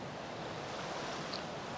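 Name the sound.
creek water flowing down from the mountains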